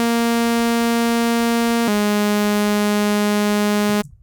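A Serum synth pad holds a sustained F3 note with a bright, steady harmonic tone, shifting slightly at about two seconds before cutting off cleanly near the end.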